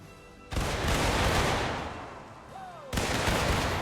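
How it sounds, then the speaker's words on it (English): A musket volley fired by rank in Mount & Blade Warband set in the American Civil War, two loud crashing bursts of massed gunfire, each rolling into a long rumbling echo. "Now that's what I call a volley"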